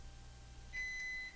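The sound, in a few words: microwave oven beeping when done cooking egg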